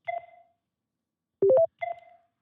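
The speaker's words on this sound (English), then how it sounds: "We're going to dial one more time." Telephone dialing tones: a short ringback tone, then three quick rising dial tones, then the ringback tone again, clear and isolated with silence between.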